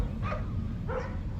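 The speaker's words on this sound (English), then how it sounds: "They bark more than my dog's neighbor dog." Two short barks from a dog, close and fairly loud over a steady broadband background hiss.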